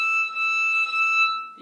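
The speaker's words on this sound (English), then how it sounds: "This is a harmonic." Bowed string instrument playing a harmonic on the E string, fourth finger position, as a steady pure high tone held for over a second, clear and close with no talking.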